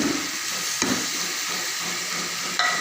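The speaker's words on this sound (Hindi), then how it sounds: "अब हम इसको हल्के से भूनेंगे" Spices, tomatoes and onions frying in a pan give a steady, close sizzle and hiss, with a couple of brief stirring clatters over the continuous crackle.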